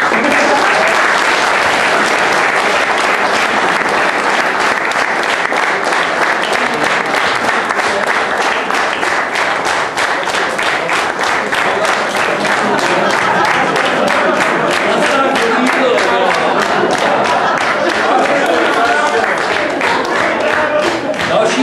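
Audience applause fills a hall at an annual event, a long, steady, dense wash of clapping from many hands, loud and close, sustained without a break.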